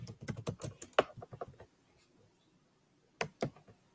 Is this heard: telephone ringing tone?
no